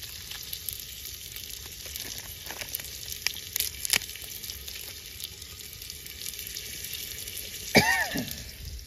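Whole spices drop into hot oil in a pan over an outdoor wood-fired clay stove, giving a steady mid-level sizzle with a sharper crackling burst near the end.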